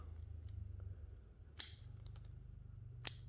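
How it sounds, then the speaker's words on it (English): Scissors snipping laurel bonsai branches, two crisp distinct snips a second and a half apart over a faint low hum, close and quiet. "So I'll cut that side one off, that side one off"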